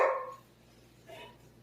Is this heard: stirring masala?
no